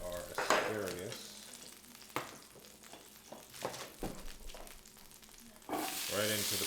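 Asparagus hits a hot pan just used for steak and sizzles loudly, with stirring and scraping through the middle and a fresh burst of frying toward the end, no talking.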